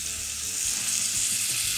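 Ground spices fry in hot ghee with a loud, steady hiss while being stirred, the sizzle continuous and close throughout.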